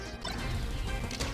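A down smash lands in a Super Smash Bros. match at a collegiate crew battle, a short crunchy impact burst over steady busy game sound and crowd noise.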